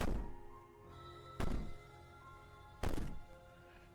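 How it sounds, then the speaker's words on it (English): Heavy thuds of someone banging on a door in the video game Slay the Princess, three loud booming knocks spaced about a second and a half apart, each followed by a resonant decay over a low background hum. "Maybe the banging and wailing will stop if you just don't pay attention to it."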